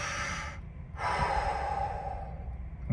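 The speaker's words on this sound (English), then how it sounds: "Big breath in, big breath out." A person takes one deep breath in and lets it out slowly. The breathing is close and steady, with a short pause between the inhale and the long, airy exhale, and no talking.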